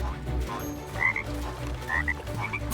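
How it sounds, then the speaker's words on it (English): A cartoonish frog croaks in Lego Party during a pirate-zone lily pad minigame: a few short throaty croaks with chirpy accents, loud and close over light game music. "It's a good thing that frogs are excellent swimmers."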